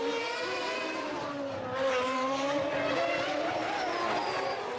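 Formula One cars racing through the streets at the 1994 Monaco Grand Prix, a loud continuous high-pitched engine whine rising and falling through gear changes, swelling briefly midway as cars close in.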